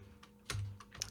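A few sparse keystrokes on a British English QWERTY computer keyboard, quiet and close, with soft separate clicks over a low hum.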